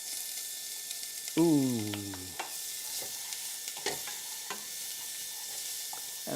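Scallions sizzling in oil are stirred in a pan with a steady soft hiss and occasional scraping taps, as a person briefly exclaims partway through.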